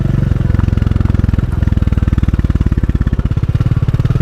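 A motorcycle engine runs on a back road, its close, loud, evenly pulsing idle thump steady throughout, with a brief shift in tone partway through and no talking.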